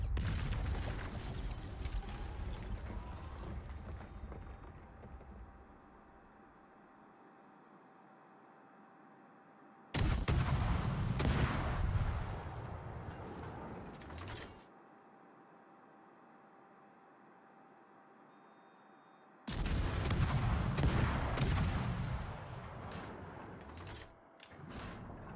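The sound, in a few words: warship gunfire in video game World of Warships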